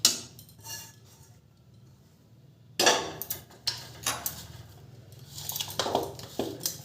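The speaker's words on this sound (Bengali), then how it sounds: "এরপরে এই ধোকার ডালটা আমি এই থালার মধ্যে দিয়ে দেব।" A thick dhoka lentil batter is scooped with a ladle onto a metal plate greased with mustard oil, giving scattered close metallic clanks and scrapes separated by quiet pauses, with no talking.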